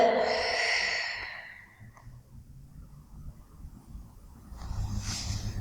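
A breathy exhale during a split-stretch workout, loud at first and tapering off within two seconds, followed by quiet room noise and then a softer second breath near the end.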